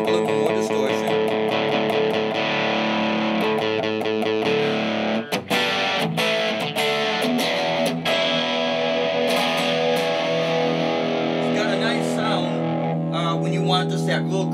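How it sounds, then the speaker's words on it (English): Electric guitar through a Monkey FX overdrive pedal, open A string ringing with crunchy classic-rock distortion, sustained and restruck over about fifteen seconds, with talking over parts of it. "Now I'm going to activate the overdrive, the dirt on the overdrive. So we bring up a little more distortion."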